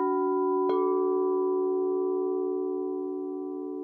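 Crystal singing bowls, one in the key of A, sound together: a sustained, pure ringing tone with layered overtones forming a diminished interval, joined by a sharp strike partway through; the rich hum lingers and slowly fades.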